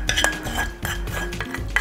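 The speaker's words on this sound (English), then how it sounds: "The remaining cinnamon we'll put in the remaining mixture of oats and flour. And we'll mix that together." Oats, flour and cinnamon are stirred together in a bowl, with a utensil scraping and clinking against the dish in quick, close, irregular strokes.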